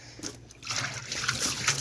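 Oily water drains and trickles out of salvaged barrels, a close, steady splashing flow that picks up after a brief quieter start.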